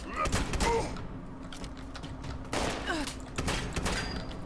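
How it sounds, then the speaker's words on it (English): Gunfire in the video game Fallout 76, with a few sharp shots in bursts, fairly loud and near, mixed with game effects and some mechanical clatter. "Oh, I missed both shots."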